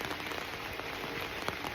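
Steady rain falls on a village after a storm, a dense, even hiss of drops pattering on surfaces with no voices, holding constant throughout.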